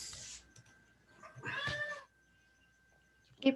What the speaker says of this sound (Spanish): Gatito tiene hambre.